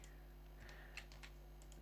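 Soft keystrokes tap on a computer keyboard, a handful of quiet, irregular clicks over a steady low electrical hum.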